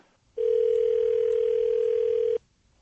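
A telephone line sounds a single steady tone while a call is placed to Joe House. The tone holds clear and unbroken for about two seconds, then stops into near silence, with no talk over it.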